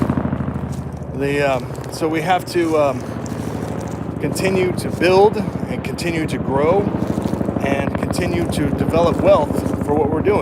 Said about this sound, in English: Oh, it's just a helicopter flying really low.